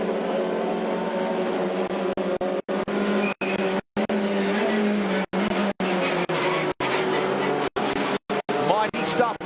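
Onboard a Hyundai i30 TCR race car at The Bend Motorsport Park, a loud engine drone rising and falling through gear changes with brief cuts, under a commentator's voice.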